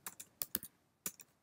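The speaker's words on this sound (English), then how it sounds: "you start typing in a document" Computer keyboard being typed on into a search box, a handful of quick, light key clicks in two short bursts, close and quiet with no talking.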